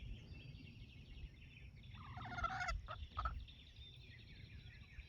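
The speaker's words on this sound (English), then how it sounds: "Looks like we got a chicken in the garden." A garden chicken on a 4-H homestead gives a short burst of clucking calls midway, fairly near, over steady outdoor background noise with low rumble and a high insect-like hum.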